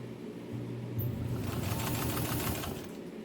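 A 103-year-old White Rotary electric sewing machine, refurbished, runs steadily with a close motor hum and rapid needle clatter that builds after a brief start and holds for several seconds.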